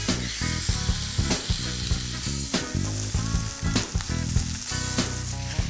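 Steak searing in a pan over high heat, a loud, dense, continuous sizzle with crackling pops and occasional clinks, close and steady with no talking.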